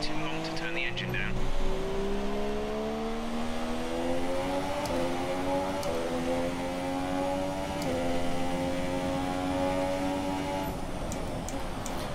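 A race car engine in an ORL online race drones steadily, its pitch climbing through the gears with brief shifts, loud and continuous throughout.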